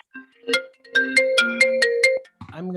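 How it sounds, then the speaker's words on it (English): A phone ringtone chirps in a fast series of bright repeated tones during an online meeting, loud and clear, followed by a brief bit of speech. "someone's phone is ringing as well"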